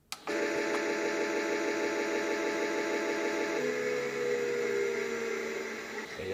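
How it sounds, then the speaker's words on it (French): A miniature toy washing machine on its spin cycle gives off a steady electric motor whine with a constant hum after a brief click at the start. Partway through, the pitch drops slightly, and no one speaks. "on va passer du coup à l'essorage."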